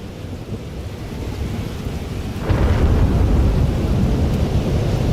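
Rain falls steadily in a thunderstorm in the video game Life is Strange. A deep roll of thunder swells midway and stays loud, heavy and rumbling to the end.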